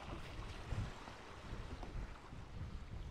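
Wind and ocean waves at Grand Case beach, Sint Maarten, make a steady broadband rush with gusts buffeting the microphone, no voices over it.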